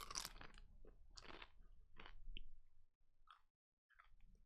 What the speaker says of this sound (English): I don't want you guys to hear me munching